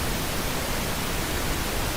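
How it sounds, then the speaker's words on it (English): Pink noise played as a test signal for mixing reference: a steady, broadband hiss with deeper weight than white noise, constant in level and unbroken, heard alone. "pink noise sounds like this"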